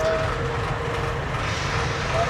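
A Pakistan Railways CRRC economy class coach, imported from China in 2022 and running on the Green Line, rolls along with a steady, even rumble of wheels on rails filling the interior with constant noise.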